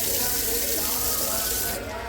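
Water gushes steadily from a drinking-water tap at a temple, a close, continuous splashing stream that eases slightly near the end, with faint voices in the background.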